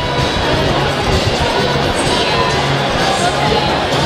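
Crowd at an amateur boxing event roaring and cheering after a hard-fought bout, a dense, steady wall of noise with voices mixed in throughout.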